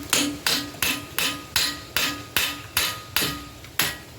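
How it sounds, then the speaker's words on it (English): Light ball peen hammer tapping a nut threaded onto the bottom of a Honda TRX250R steering stem: nine sharp, evenly spaced metallic taps, each with a short ringing decay, close and clear with no talk. "I got a very light ball peen hammer."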